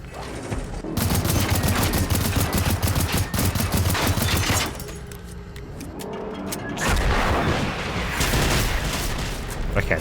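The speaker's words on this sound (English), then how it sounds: "the tree actually would have protected me from the rockets, which I did not expect" Tank rockets fired in the video game Generation Zero: a dense burst of loud, rapid explosive impacts and booms, a brief lull in the middle, then another sustained volley.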